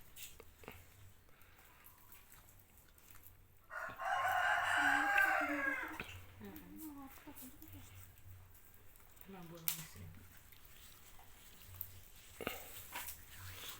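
A loud rooster crow bursts out in the middle, among a flock of fifteen chickens kept for a big village cook-up, with clucking and scattered calls around it while people chat nearby.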